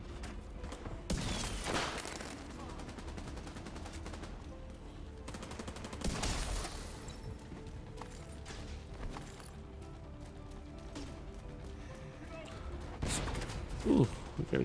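Gunfire in The Division 2 during a global event match, with repeated bursts of shots at roughly one, six and thirteen seconds standing out over a steady background of game sound and a talking player.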